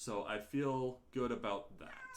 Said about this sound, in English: I apologize if you can hear the cat in the background.